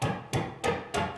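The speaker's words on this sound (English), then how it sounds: "It's the steel strings going into the metal frets" Steel guitar strings slapped by a fist down onto metal frets give four evenly spaced, sharp metallic clangs, close and fairly loud, each ringing briefly before the next.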